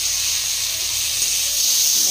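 Prawns hit a hot pan of ground spices in a village kitchen and give off a loud, steady hiss of sizzling, close up, with no voices.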